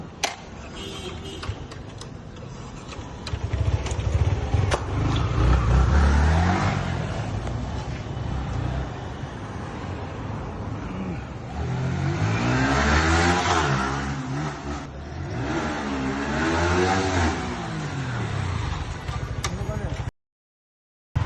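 A Yamaha R15 V3 motorcycle engine revs repeatedly in rising and falling sweeps on a test drive, fairly close and steady, with a voice talking over it.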